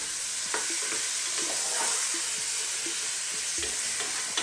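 Beef curry frying on high heat in a pan while being stirred: a steady loud sizzle with scattered scraping clicks from the stirring utensil throughout, and no talking.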